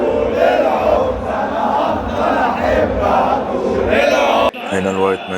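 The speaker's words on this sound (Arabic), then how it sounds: "هنا الوايت نايتس بدأوا بقى يخشوا عشان نبدأ هتاف" Zamalek White Knights supporters chant together from the stadium stands at a football final, a dense, loud crowd roar with rhythmic voices swelling throughout, briefly cut then resuming.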